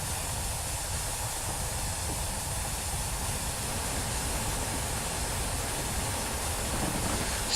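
Steady, dense hiss and rumble from the Flying Scotsman steam locomotive running in a train simulator game, continuous and even throughout with no distinct chuffs standing out.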